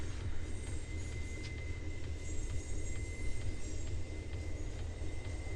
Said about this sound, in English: The train's coming, well, coming down the hill